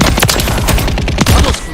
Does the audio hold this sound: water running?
no